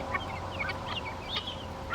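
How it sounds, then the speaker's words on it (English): A sociable turkey hen clucking and chirping close by, a series of short, high-pitched calls over a low hum of background noise, with no voices heard. "She's definitely our most sociable turkey."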